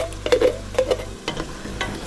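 Tomato paste is stirred into a hot, sizzling pan for Portuguese seafood rice, a spoon scraping and clacking in an irregular rhythm over a steady frying hiss, close and fairly loud with no voices.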